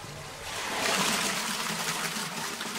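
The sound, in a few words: water trickling down a mine in the Czech Republic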